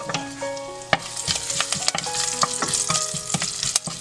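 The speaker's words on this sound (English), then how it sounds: "Once the oil is hot, add mustard seeds, cumin seeds, asafoetida, curry leaves" Mustard seeds, cumin, asafoetida and curry leaves hit hot oil with a steady, close sizzle, peppered with sharp pops and crackles and occasional spoon stirring, no voices.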